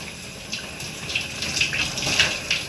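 A home shower runs steadily, water hissing and splashing close by with a slight swell in spray, and no voices over it.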